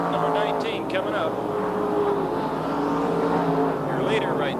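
NASCAR Winston late model race cars roaring down the back straightaway at Raven Raceway in 1987, a steady, loud engine drone with shifting pitch as one car passes another, heard under continuous race commentary.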